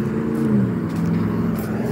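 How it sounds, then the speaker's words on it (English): Steady rumble of road traffic with cars driving past, a continuous low engine drone with no clear separate pass-bys and no talking. "I'm just gonna make a video of traffic right now."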